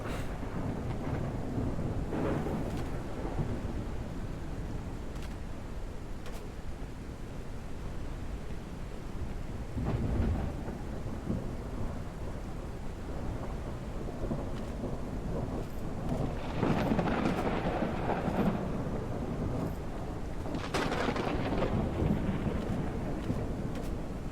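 Rolling thunder in the Arctic winter mining game Out of Ore, low rumbles swelling and fading over a steady bed of rain and wind, with a stronger rumble late on, fairly distant and without talk.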